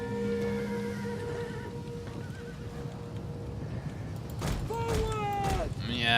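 Horses neigh in a Total War ancient-empires battle, first a long whinny near the start, then several loud, close neighs and snorts toward the end, with hooves and battle noise beneath and someone talking.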